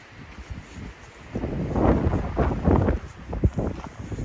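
Gusty wind buffets the microphone on an exposed alpine hiking trail, rising and falling in strength, with rustling and scuffing noises mixed in.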